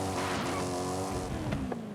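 Tires of a $100,000 car spinning and squealing for grip on dirt in Forza Horizon 5, with a steady engine drone under sharp skidding chirps near the end.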